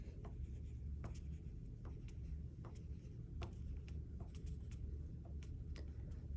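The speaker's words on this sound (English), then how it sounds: "I could also draw" A pen taps out a dotted line on paper, a quick series of short, light ticks in an uneven rhythm over a steady low background hiss.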